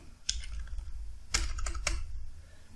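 Quick bursts of keystrokes on a computer keyboard, close and fairly loud, coming in short irregular clusters with brief pauses between them and no one talking.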